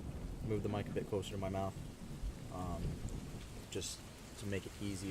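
Steady rain and soft rolling thunder from a Rainy Mood ambience track, turned down low and playing quietly under close-miked speech.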